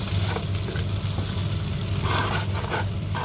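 Oil sizzles steadily in a pan as diced onion fries, a loud, continuous crackle with no voices.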